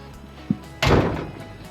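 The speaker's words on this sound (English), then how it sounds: "One lovely closing lockable door" A lockable door on a box profile metal shed swings shut after a small knock, a single loud hollow metallic slam that rings briefly and fades.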